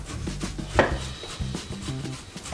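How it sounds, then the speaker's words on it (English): Fresh tomatoes being chopped with a knife on a board for marinara sauce: scattered soft knocks and scraping cuts, with one sharper impact early, while a person talks quietly in the background. "we're gonna take our tomatoes and we're gonna go ahead and shred them down"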